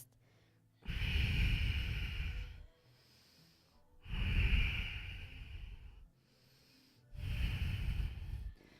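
Three slow, deep breath cycles during a yoga flow, each a long airy rush lasting about three seconds, separated by short quiet gaps, close and fairly loud with no talking.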